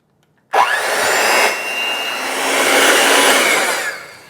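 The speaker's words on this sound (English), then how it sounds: "Now we're going to blend this on medium until it's just nice and smooth." Blender running on medium speed mixing a runny homemade pumpkin pie filling, starting abruptly and holding a loud, steady whirring motor drone with a churning, slightly rising hum throughout.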